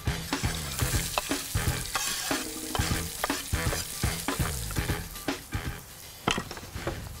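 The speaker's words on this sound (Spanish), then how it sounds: "Entonces salteamos la cebolla con el ajo y esperamos a que quede un poco dorada o caramelizada" Red onion and garlic sautéing in a pan, a steady close sizzle and fry broken by repeated scraping stirs and light clinks of utensil against the pan.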